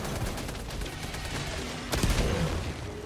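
A machine gun turret in Helldivers 2 fires continuously, a dense stream of rapid shots with a heavier burst partway through, loud and close amid battle noise.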